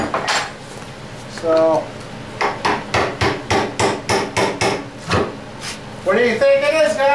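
Work on freeing the oil pan from a motor during a teardown: a rapid series of sharp metallic hammer blows in a steady rhythm, with brief speech before and after.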